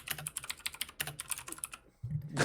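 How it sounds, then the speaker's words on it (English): Furious typing on a computer keyboard: rapid, dense clusters of clacking keystrokes in bursts with brief pauses, close and crisp, no voices. "He's furiously typing on the keyboard"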